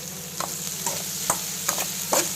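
Garlic cloves being stirred into okra frying in a pan for bendakaya fry, a steady low sizzle under a few separate scraping spoon strokes, close and fairly quiet.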